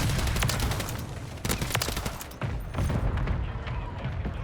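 Rapid bursts of SVA 545 rifle fire in a Modern Warfare 3 match, several sharp volleys of shots with short gaps between them, loud and close.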